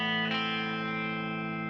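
An electric guitar rings out a sustained note with the first finger on the first fret of the B string, from a song intro, through distortion and chorus effects, one bright attack fading slowly.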